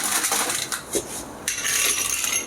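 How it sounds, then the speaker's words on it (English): Ice cubes clatter and clink into a cocktail glass being iced for an Americano, a busy run of close, crisp rattles with a brief pause before another pour of cubes. "So we're going to start off with icing our glass."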